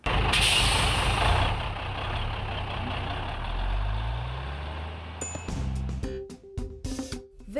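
A selective-collection garbage truck in Jacareí rumbling loudly nearby, with a hiss of air brakes and a low engine pitch that sweeps as it moves, then mechanical clanks and short beeps.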